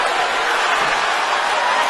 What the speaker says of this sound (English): Crowd coming alive.